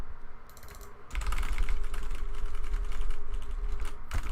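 Computer keyboard keys are pressed in quick, steady clicking runs, close and clear over a low background hum, with the typing picking up in density partway through.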